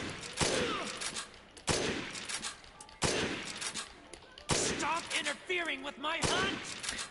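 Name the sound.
sniper rifle shots in video game Dead Rising Deluxe Remaster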